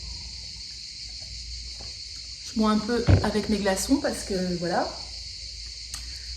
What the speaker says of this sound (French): Alors, vous entendrez certainement les cigales.